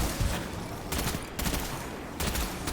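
Sniper fire in the video game Destiny 2, heard as repeated sharp broadband shots in quick bursts, with the loudest cracks near the start, middle and end, all mid-loud with no talking.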